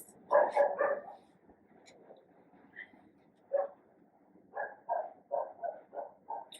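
Dogs barking indoors at moderate distance, a cluster of quick barks at first, then scattered single woofs and a closing run of five or six rhythmic barks, with no talk over them.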